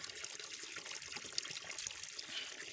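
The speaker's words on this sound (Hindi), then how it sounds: "यहाँ पे भी पानी बह रहा है। बहुत साफ़ सुथरा, साफ़ शफाफ पानी है।" Clear, clean mountain stream water in Skardu flows and trickles steadily close by, a continuous bright splashing babble with no talking.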